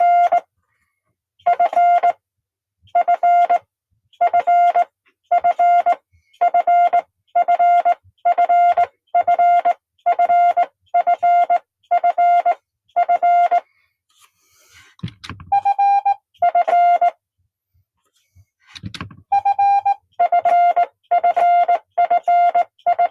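Morse code for the letter F sounds as crisp, loud electronic tone pulses from Fistcheck software checking a bug, in repeated dot-dot-dash-dot groups, with a short gap of fumbling noise midway.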